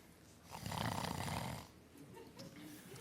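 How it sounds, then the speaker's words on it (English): A grandmother snores in a stage musical, one long, loud, rasping snore swelling and fading, followed by quieter breathing noise. "that grandmother has a mighty snore"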